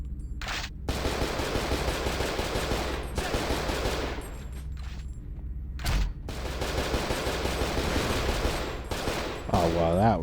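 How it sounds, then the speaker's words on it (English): Gunfire in the horror video game Cold Fear, long bursts of rapid shooting broken by brief pauses, loud and continuous with a short warbling tone at the end. "who's shooting?"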